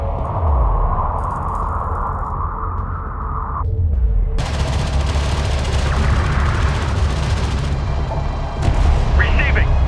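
Heavy weapons fire from armored desert vehicles in the Homeworld: Deserts of Kharak strategy game, loud booming blasts and rumbling volleys layered over a low engine drone, with a sharper burst near the end.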